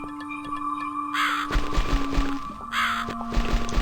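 Crow cawing within The Cat Lady video game, harsh calls repeating over a steady droning ambient background with tonal hums.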